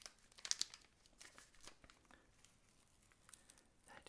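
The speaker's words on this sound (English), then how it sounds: "it's got a little tag there saying peel here. So I will peel here" A paper-and-foil wrapper tag is peeled off a Wonka chocolate bar up close, giving soft crinkling and tearing with a brief louder rip near the start, then faint rustles.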